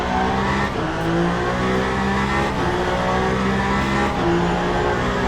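The Jota Cadillac race car engine in Le Mans Ultimate roars steadily at high revs on the Bahrain circuit, loud and close, with faint tire noise and no talking.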